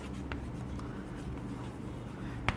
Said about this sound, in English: Now I can write it like this also.